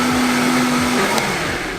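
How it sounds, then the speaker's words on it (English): A blender whirs steadily as it purées Italian tomatoes into pizza sauce, a loud continuous motor drone that holds a high pitch for about a second and then deepens as the contents thin out. "Oh yeah, and we're blending these"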